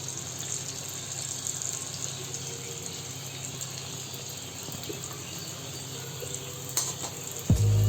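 Bread rolls with a spiced potato stuffing deep-fry in hot oil, giving a steady, moderately loud sizzle and bubbling hiss that runs unbroken throughout, with a brief knock near the end.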